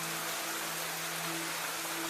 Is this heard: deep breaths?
no